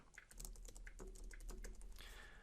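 Rapid, uneven typing on a computer keyboard, close and clear, with crisp key clicks in a steady flurry and no voices.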